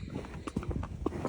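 Hooves clip-clop at a walk as horses head out on a hack, a few light, irregular knocks at moderate distance, soft and brief.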